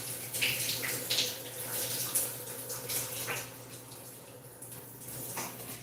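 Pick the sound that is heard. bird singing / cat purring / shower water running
shower water running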